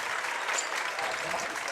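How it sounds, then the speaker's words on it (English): Basketball fans on both sides of the arena raise a steady, dense roar of cheering and clapping, loud and continuous from start to finish with no break. "A lot of noise here from the fans on both sides."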